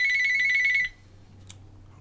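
A telephone rings with a steady electronic trill that lasts under a second, then cuts off as though answered, leaving quiet room noise and a faint click.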